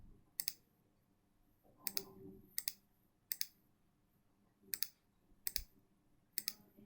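A computer mouse clicks repeatedly, each a crisp, close double click, seven in an irregular pattern, with faint handling noise in a quiet room.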